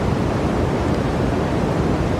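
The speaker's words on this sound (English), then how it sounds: "This is brown noise." Brown noise fills the space as a steady, dense low roar, like a strong river current or heavy wind, loud and unchanging throughout with no voices.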